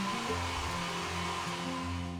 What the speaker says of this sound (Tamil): உங்கள் வீட்டில் ஹேர் ட்ரையர் இருந்தது அப்படின்னா அதை வந்து லைட்டாக வந்து ப்ளோ பண்ணுங்கள்.